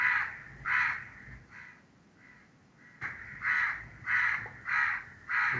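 A crow caws repeatedly in a hoarse, harsh series, two bursts of three to five caws separated by a short pause, fairly distant and with no other sounds nearby.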